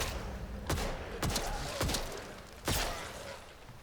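Gunfire in the video game Atomfall aimed at robots: four sharp shots at uneven intervals over a steady, noisy game background.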